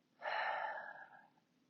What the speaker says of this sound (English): And breathe.